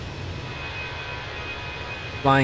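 Jet engines of a Fenix Airbus A320 in cruise over the Andes in a flight simulator, a steady broadband roar with a thin high whine, ending as a voice starts.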